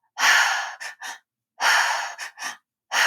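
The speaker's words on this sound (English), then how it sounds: "it's this specific breathing through the mouth with the belly" Deep belly breaths are drawn in and out through the mouth during breath work: two long, loud breath sounds, each followed by a pair of shorter puffs, close and alone.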